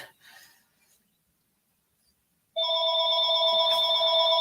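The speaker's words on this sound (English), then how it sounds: "there goes my phone." A mobile phone suddenly starts ringing with a loud, steady electronic tone that continues to the end after a quiet stretch with faint rustling.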